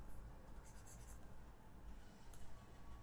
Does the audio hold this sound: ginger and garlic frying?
no